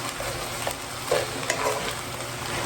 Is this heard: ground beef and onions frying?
yes